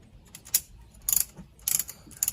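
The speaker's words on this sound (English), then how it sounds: "it comes with a little handy tool that goes right on top, and you just tighten them on up" Wheel chocks wedged between travel trailer tires are cranked tight with a small handle tool, giving repeated bursts of clicking ratchet sounds with short pauses between, close and fairly loud.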